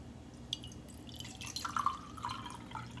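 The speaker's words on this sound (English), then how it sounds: "So you put the water in there." Water poured from a vessel into a countertop coffee maker's reservoir in a home kitchen; a soft, brief trickling and splashing that swells slightly in the middle, quiet and close, with no talking.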